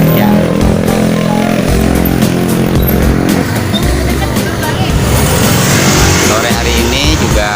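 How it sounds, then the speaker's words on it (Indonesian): Busy afternoon road traffic on a main road, cars and motorbikes passing close by in a loud, continuous stream of engine roar and whooshes, with voices talking underneath. "Sore hari ini juga hilir mudik kendaraan begitu ramai ya di jalan raya ini."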